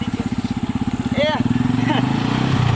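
A motorcycle engine runs with a steady low pulsing throb, nearby and fairly loud, as voices talk over it and a brief rising tone cuts through in a rural comedy skit setting.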